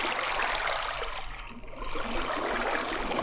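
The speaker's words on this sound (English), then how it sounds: "place a bucket of water into each of these blocks that we had carved out, and basically just go on and fill in the stream" Water poured from a bucket in Minecraft rushes and trickles continuously to fill a carved stream channel, a steady loud splashing flow that briefly dips mid-way before resuming.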